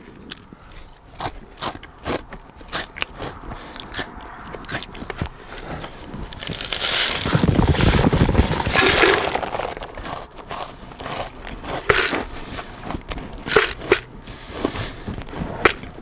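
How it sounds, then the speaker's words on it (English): Crisp barbecue-flavored snacks crunch loudly in a mouthful, with repeated sharp bites and a long run of steady close chewing in the middle, alone without talk. "It takes a while to chew, especially a mouthful. As I said, they're very crisp."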